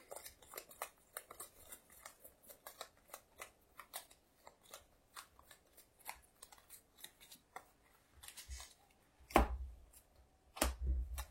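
Playing cards for a Marvel Champions game being handled and shuffled, a rapid series of crisp riffling snaps close by, ending in two heavier thumps near the end.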